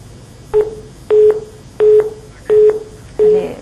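Five repeated electronic tones from a telephone line after a call drops during a live phone-in show, each a steady beep about a quarter second long with clicks, spaced evenly and loud against a quiet background.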